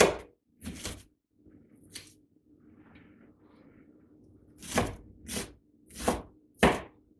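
A knife chops vegetables on a cutting board for a satay sweet potato curry: sharp, close thuds come in two early strokes, then a quick burst of four, with quiet shuffling between them.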